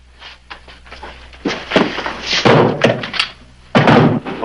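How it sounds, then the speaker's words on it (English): A trap door being hauled open in a hideout, giving a few heavy wooden thunks and thuds close by, with rustling movement around them and no talk. "All right, get the trap door."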